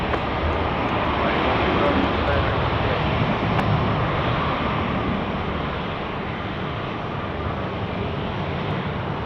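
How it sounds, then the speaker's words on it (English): An Airbus A350-900 at Sydney Airport at night gives a loud, steady jet roar that holds close and constant throughout, easing off slightly near the end. "Beautiful aircraft, the A350 900."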